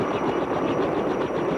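Military aircraft rotor and engine noise during air assault training in Fulda, Germany, a steady, loud, close roar with a faint pulsing beat running unbroken throughout.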